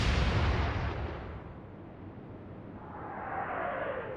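A heavy naval gun in the Atlantic Fleet game fires 8-inch armor-piercing shells, a single deep booming blast with a long rumbling tail that fades and swells again as the shell travels.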